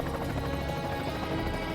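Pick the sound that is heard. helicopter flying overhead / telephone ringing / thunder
helicopter flying overhead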